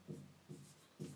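Chalk or marker writing a line on a classroom board during a Class 10 science lesson on electricity, three short scratchy strokes in an even rhythm, faint and close, with no talk over them.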